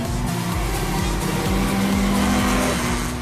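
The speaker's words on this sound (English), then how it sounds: "Mark's driving fast, Debbie's driving fast, they're all driving fast, round and round they go" Several cars race fast around a motorsport track, engines droning loud and close with repeated pass-by sweeps and steady high revs, alone with no talk.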